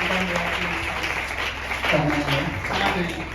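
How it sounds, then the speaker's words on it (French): A church congregation applauding during a Sunday service, sustained clapping mixed with cheering voices and talk throughout. "On libère un peu les mains et on acclame prophétiquement la parole de Dieu."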